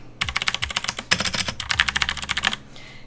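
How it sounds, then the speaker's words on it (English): Rapid clicky typing on a Drevo Caliber V2 mechanical keyboard with blue switches and coral keycaps, a close, dense run of sharp keystrokes with a brief pause in the middle, no voices. "for the keyboard of choice, I have the Drevo Caliber V2 with optimal blue switches"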